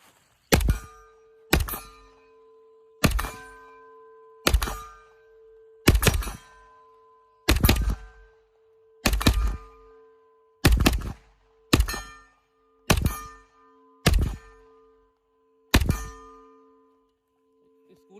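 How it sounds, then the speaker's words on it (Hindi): Steel targets ring with a bright metallic clang after each gunshot hit, about a dozen evenly spaced impacts over eighteen seconds, every strike leaving a sustained humming tone that rings on beneath the next. "स्कूल की छुट्टी पे इतनी घंटियां नहीं होती थी जितनी यहाँ बज रही हैं।"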